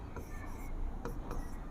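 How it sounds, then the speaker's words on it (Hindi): Marker or chalk strokes on a classroom board as a maths question is written, soft scratchy rubbing sounds in short bursts, faint and close. "जैसे कोई सवाल हम लिखते हैं यहाँ पर कि"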